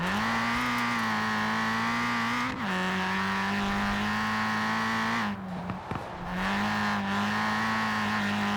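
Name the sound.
Ford Racing Puma engine accelerating in video game Forza Horizon 4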